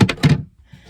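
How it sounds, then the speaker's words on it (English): A cupboard door inside a converted bus is firmly shut, giving two quick close knocking thuds followed by a faint rattle as it settles. "I've always got to make sure that all the cupboard doors are firmly shut"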